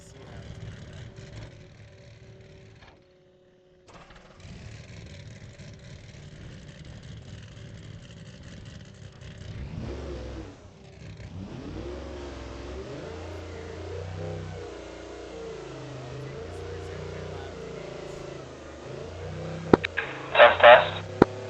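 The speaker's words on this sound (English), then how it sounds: "Really drives this truck aggressive." A short course race truck with a Monster Energy livery, driven aggressively, its engine revving up and down in repeated surging waves that build steadily, ending with a few sharp clatters.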